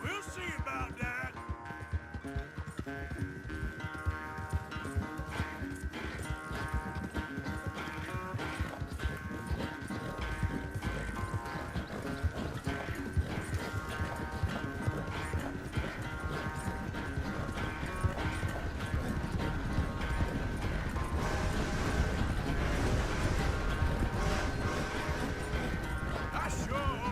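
Horse hooves clip-clop and gallop in Red Dead Redemption 2 as a rider travels alongside a companion, a steady rhythmic beat running the whole way under game music and occasional spoken dialogue.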